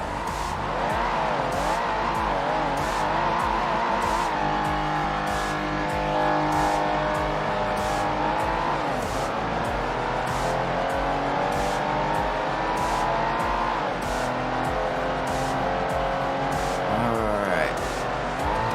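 Race cars in the Ford Racing 1 video game hold a steady, loud engine drone throughout, with pitch sweeping up and down through gear changes, occasional tire squeal and a brief rising rev near the end; a voice talks intermittently over it.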